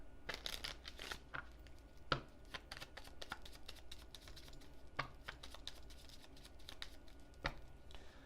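Playing cards are shuffled repeatedly during a tabletop card game, giving quick papery riffles and taps in irregular bursts with some sharper snaps, fairly close and with no talk.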